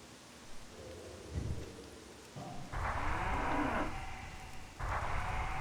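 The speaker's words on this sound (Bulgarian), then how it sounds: "Леле, кравата колко е силна." A cow in World of Warcraft lets out long, loud, drawn-out moos, with a shorter low grunt before them, clear over faint ambient background.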